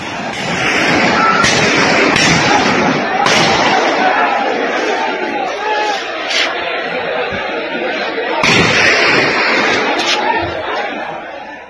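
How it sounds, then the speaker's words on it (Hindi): Gunfire from the surrounding hills, aimed at people trapped in a temple during unrest in Nuh, cracks as several sharp, distant reports spaced through a continuous noisy backdrop of crowd chatter and voices. "तो आपको गोलियों की आवाज साफ इस वीडियो में सुनाई दे रही है"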